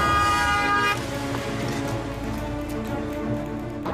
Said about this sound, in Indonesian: Itu mobil Pak Suta kan?